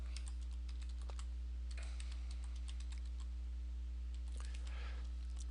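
Fingers type a username and password on a computer keyboard in quick, irregular bursts of crisp clicks with pauses between, close and fairly quiet over a steady low electrical hum.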